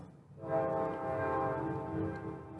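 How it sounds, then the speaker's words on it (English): A passing train rumbles steadily and loudly at close range, with sustained horn-like or squealing tones held over a continuous low roar for the whole stretch. "This goddamn train could stop interrupting me every time I try and film this."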